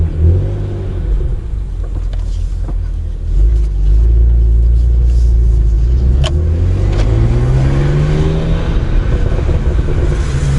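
Six-speed BMW 135i with N54 twin-turbo engine on a test drive: a loud, close engine drone that rises as the car accelerates, with engine pitch climbing and settling, and occasional exhaust pops and burbles near the middle. No talking.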